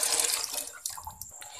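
Water pours into a cooking pot for chicken pakora curry, a steady splashing stream that is loud at first and then thins into softer trickles and small splashes.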